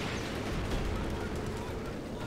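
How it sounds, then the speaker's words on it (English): A mortar carriage opens fire in a Company of Heroes 2 battle on the Red Ball Express map, heard as dense, continuous booming and crackling gunfire that fills the whole stretch without a break. "Mortar carriage opening fire"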